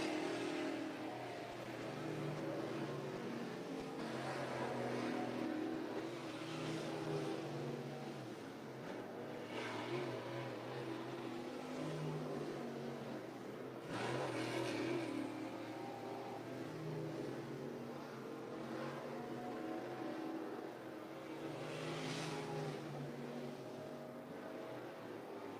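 Three race cars circling a track at a Labor Day championship event, engines droning at a distance with recurring swells as cars pass, a continuous moderate roar without speech.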